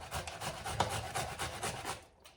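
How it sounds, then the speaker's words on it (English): Ripe tomatoes rubbed against a grater for homemade Spanish tomato sauce, a close, rhythmic rasping scrape repeated in quick strokes, stopping just before the end. "So then you're gonna start grinding the tomatoes."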